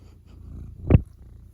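Pet cat named Luca sitting on someone, a soft low purring rumble close up, rising to one brief louder snort-like burst before settling again.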